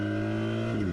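A BMW R 1300 GSA motorcycle engine pulls in Dynamic Pro mode, a steady, loud, close engine drone with its pitch rising slightly near the end of a brief burst.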